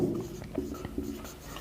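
Chalk or pen scratches across a classroom board in short strokes, a few close scraping marks in quick succession during an English grammar lesson, with no talk over it.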